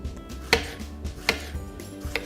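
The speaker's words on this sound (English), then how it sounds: "I got some nice organic strawberries here that I'm just going to slice up and put those in" A knife slices organic strawberries on a cutting board with three or four crisp, evenly spaced thuds, fairly close and quiet, and there is no talking.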